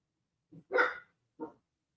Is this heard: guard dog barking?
yes